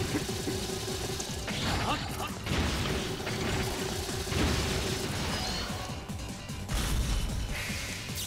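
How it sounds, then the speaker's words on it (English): Boss missile barrage in the 3DS action game Azure Striker Gunvolt, a steady run of crashing bursts and booms layered over busy game music and effects. "He always starts with the missile attack"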